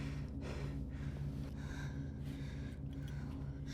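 A young man's anxious, heavy breathing, a run of loud, ragged gasps and snorting inhales and exhales close up, repeating unevenly with no talk.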